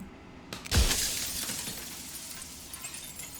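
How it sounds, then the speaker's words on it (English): A mirror in the video game Slay the Princess bursts into jagged shards of broken glass, one sharp crash followed by a bright tinkling scatter and lingering, fading debris, with no talking. "Turning the mirror into jagged shards of broken glass."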